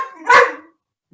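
A dog gives a single loud bark close by, which cuts off quickly into silence.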